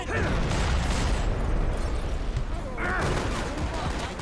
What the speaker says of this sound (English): I now cannot see the guys who are shooting at me